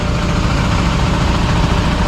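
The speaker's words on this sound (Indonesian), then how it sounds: "mesin sudah mulai dinyalakan" A newly started PO Pangeran medium bus engine idles close by with a loud, steady, low diesel rumble and no breaks.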